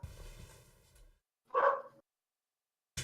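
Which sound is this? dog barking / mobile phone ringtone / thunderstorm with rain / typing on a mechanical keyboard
dog barking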